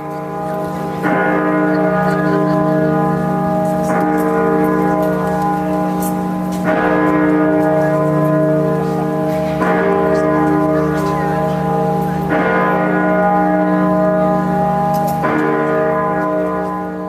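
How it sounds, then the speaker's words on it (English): Great Peter, the bourdon bell of York Minster in England, cast in 1927 by John Taylor and Company and pitched at E flat, tolls loudly with a deep humming tone. Six or seven heavy strokes fall about three seconds apart, each ringing into the next. "Great Peter at York Minster, England, cast in 1927 at the John Taylor and Company Bell Foundry, with a pitch of E flat"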